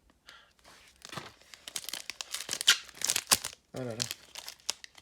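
A Pokémon booster pack wrapper from a Reign of Frost elite trainer box is crinkled and torn open by hand. It makes several sharp, close crackling rips spread through the clip, with a person talking over them.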